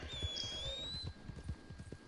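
Hoofbeats of the horse Voodoo approaching in Red Dead Redemption 2, a quick rhythmic clip-clop of hooves at moderate distance under a faint whistling tone, no talking.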